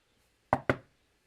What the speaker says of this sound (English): knock on the door.